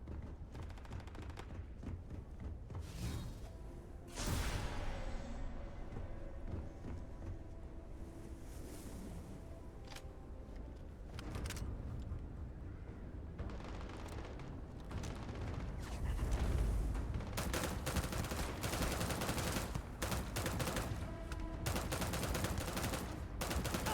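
Gunfire during a fight in the space game Starfield: bursts of rapid shots and sharp cracks over a steady roar of background noise, loud and continuous throughout.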